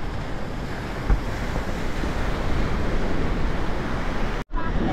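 Sea waves surge at Arnala jetty in Virar, a steady broad wash of surf heavily mixed with wind buffeting the microphone, continuous and close, with a brief dropout near the end.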